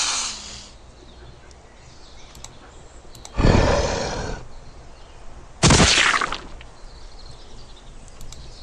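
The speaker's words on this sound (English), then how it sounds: "Gonna breathe a little fire there." In the video game Geneforge 1: Mutagen, two separate fire-breath blasts burst out as loud, roaring whooshes, each about a second long with a fading tail, set against quiet background ambience.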